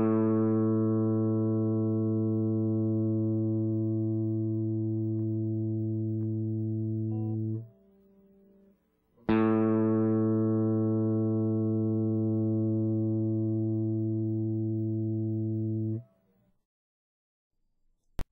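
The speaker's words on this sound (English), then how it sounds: "110 Hz, electric guitar." A sustained electric guitar note on the open A string (110 Hz) rings steadily, cuts off, then sounds again for several seconds before stopping.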